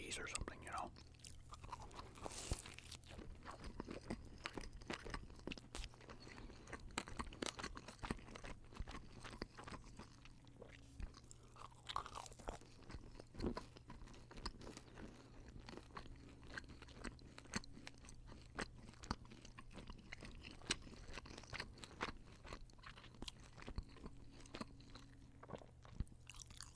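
Soft, close chewing of thick, dense Little Caesars extra cheesy pretzel pizza, with slow, wet, muffled bites repeating steadily at low volume over a faint background hum.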